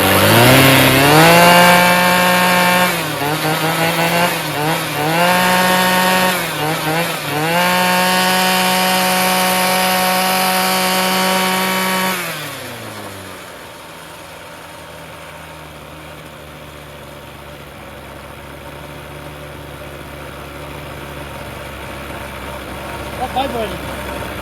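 A Ryobi full-crank expandable weed trimmer engine, salvaged from the garbage, runs loudly at a high buzzing rev, dips and surges a few times, then drops to a steady, quieter low idle that carries on to the end.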